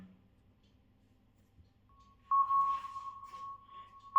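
Long sustained synth note in C sharp minor from a psytrance production, a thin steady tone entering halfway through and holding, faint and alone.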